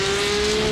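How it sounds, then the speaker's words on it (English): A race car in iRacing driving onto the Nordschleife at the Nürburgring 24 hours, its engine a loud, steady, close drone with a sustained high tone and no talk. "Drago Racing car making its way onto the Nordschleife again"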